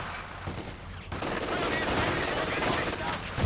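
Sustained machine gun fire in a Company of Heroes 2 multiplayer battle, a dense steady rattle of automatic shots mixed with other battle noise at moderate loudness.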